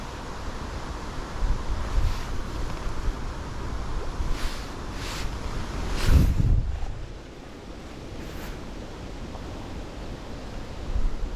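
Steady wind buffets the microphone beside the water while fishing, a dense roar with gusts and waves washing underneath, swelling briefly midway before easing, with no talking.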